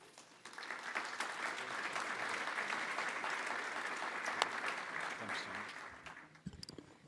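Steady audience applause fills a conference room at a marketing symposium as presenters are welcomed to the stage, sustained clapping for several seconds before fading out.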